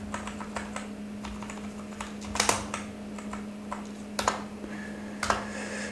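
Steady clicking of a computer keyboard as Python code is typed, with irregular keystrokes and a few louder taps over a constant low electrical hum.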